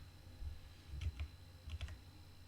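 A Java class name being typed on a computer keyboard: a few soft, close key clicks in two small clusters, quiet and alone against a low hum.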